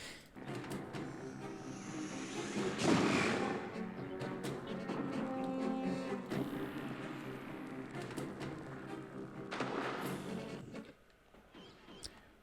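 A boss unleashes a fire attack in the Temple of Horus finale of Tomb Raider: The Last Revelation, a long roaring, rumbling whoosh that swells near the start, holds for several seconds and then cuts off abruptly near the end.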